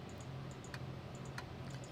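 Clicking of the fuel switch in a Diamond DA62 cockpit in Microsoft Flight Simulator 2020, a few soft, faint, separate clicks over a low steady hum.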